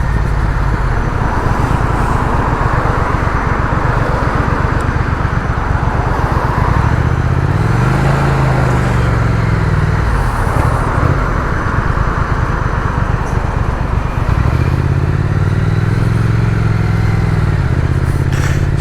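A motorcycle ridden on a damp road, with a loud, steady engine drone, rising and falling revs as gears change, and road and wind rumble throughout.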